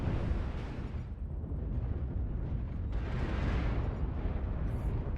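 Missile explosions in MechWarrior Online, piloting a CPLT-K2 Catapult mech: a sustained, loud rumbling roar of blasts, with a brighter burst near the three-second mark and no talk over it.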